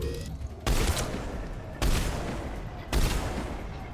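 Three heavy bursts of gunfire from the video game Mass Effect, each a loud broadband blast trailing into a long rumbling decay, roughly a second apart, with no talk.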